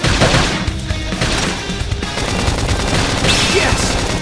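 Rapid gunfire during a battle in the video game Xenoblade Chronicles X, loud dense volleys of shots mixed with clashing combat effects, and a voice briefly heard under the noise.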